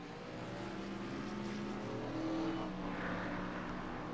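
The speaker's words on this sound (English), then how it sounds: "This will be a great view of our drivers as they leave pit road" Race cars in a racing video game leave pit road, with a steady engine drone that swells slightly as they pull away under a low rumble.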